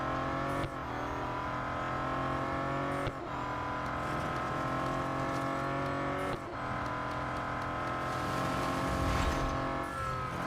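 A Bentley Continental GT Speed races in Real Racing 3 with a loud, steady high-revving engine drone that briefly dips three times at gear changes, then keeps roaring without any talk.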